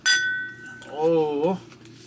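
Whisky glasses clink together in a toast, a bright ringing chime right at the start that lingers and fades, followed by a voice.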